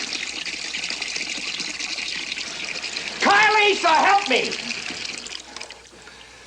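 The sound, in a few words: running tap water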